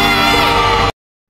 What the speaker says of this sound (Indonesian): Tiba-tiba anak-anak siswa Adia berteriak kegirangan lalu berlarian keluar kelas